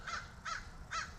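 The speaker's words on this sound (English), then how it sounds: "I'm sorry that I can't concentrate because I have another crow" Three loud crow caws come in a steady rhythm, close and harsh, over a low rumbling background, with no talking.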